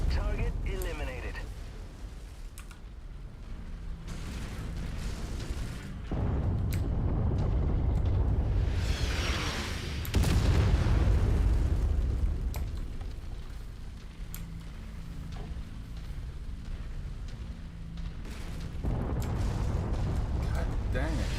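Heavy artillery blasts in the mech combat video game MechWarrior 5: Mercenaries, a dense, continuous rumble of booms and impacts swelling and receding throughout, loud and close, with mechanical noise and a voice mixed underneath.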